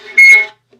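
A viola bowed on the open G string with the first finger poorly rounded, producing one short, rough, buzzy tone of about half a second that starts abruptly and fades, heard alone.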